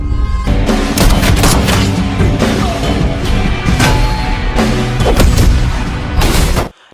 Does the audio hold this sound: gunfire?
yes